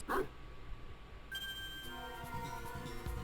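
Anubis, a dog in the video game Ace Attorney Investigations 2, gives a short bark at the start, followed by quiet game music and chiming tones.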